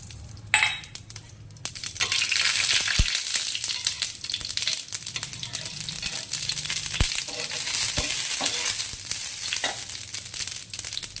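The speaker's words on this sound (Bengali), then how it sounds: "চাটুর উপরে একটু তেল দিয়ে দেব। আর এই যে সর্ষের ফোড়ন, শুকনো লঙ্কা, পাঁচফোড়ন দিয়ে দিলাম।" Mustard seeds, dried red chillies and five-spice hitting hot oil on a griddle give a loud, steady sizzle and crackle that swells right after a sharp initial pop, with a few metallic clinks scattered through it.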